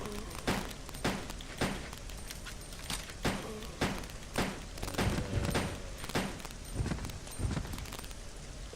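Repeated gunshots in Resident Evil Code Veronica X, a steady series of sharp individual blasts every half second or so over faint ambient game sound.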